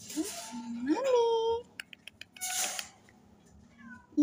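A sick cat with a fever, waiting at the vet, gives several drawn-out, rising meows close by, followed by soft clicks and rustling and a short faint call near the end.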